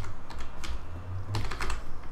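Rapid typing on a computer keyboard during Minecraft play, a steady run of close clicky keystrokes with a brief lull mid-way, then a denser burst of key presses, no voices.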